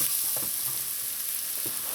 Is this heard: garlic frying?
yes